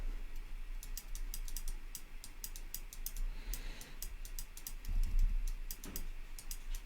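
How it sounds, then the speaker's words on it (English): Rapid, steady computer mouse clicks ticking away for several seconds during photo editing, a faint fan-like hiss beneath them and a low thump near the end. "I apologize for the incessant clicking"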